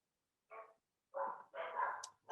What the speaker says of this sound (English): You'll also hear my dog.